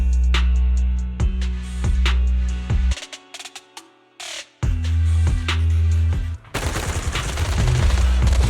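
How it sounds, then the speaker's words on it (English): Rapid bursts of automatic gunfire in Zenless Zone Zero, suppressive marching fire crackling in regular rhythmic volleys with short pauses, ending in a dense sustained barrage. "Gunfire? This pattern. Suppressive marching fire."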